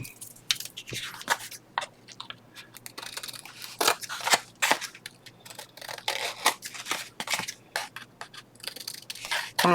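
Scissors snip repeatedly through material, a run of sharp, close crunching cuts in an irregular rhythm, loud against a quiet background with no talking.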